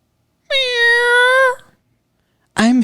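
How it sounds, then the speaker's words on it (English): A pet cat gives one long, clear, loud meow up close, then a second short meow starts just after a pause. "She's just a kitty."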